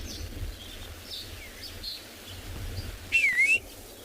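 A red-faced mousebird gives a single short, clear whistled call near the end, standing out over a low rumbling background with faint distant bird chatter.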